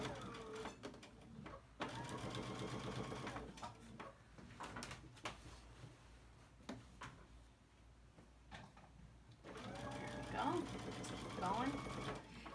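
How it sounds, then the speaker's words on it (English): Sewing machine running a straight stitch down quilt binding, bursts of whirring mixed with a person talking over the machine and occasional handling clatter. "now I'm just going to straight stitch right down the side again"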